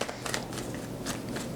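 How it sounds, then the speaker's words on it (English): Close by, a deck of tarot cards is shuffled in quick, repeated papery bursts with no talking. "2 more shuffles for Taurus."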